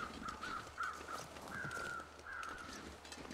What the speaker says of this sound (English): there are crows over there somewhere